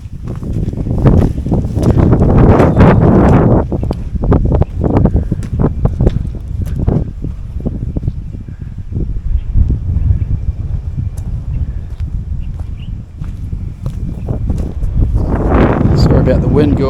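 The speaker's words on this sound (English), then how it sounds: "About the wind, guys." Gusty wind buffets the microphone beside an outback dam wall at Lightning Ridge, loud low rumbling surges that swell, ease off mid-way and build again, with no voices heard.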